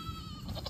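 Goats bleat in a farmyard beside a garden, a short, nasal, wavering cry heard close and fairly loud over low background noise.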